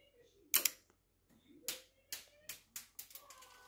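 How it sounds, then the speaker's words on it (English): A LEGO Star Wars stud shooter on the Boba Fett's Starship set flicks out a small plastic stud: a sharp double click up close, followed by a run of lighter clicks and taps as the stud lands and bounces away. "If you're not familiar with how stud shooters work, I'll give a demonstration."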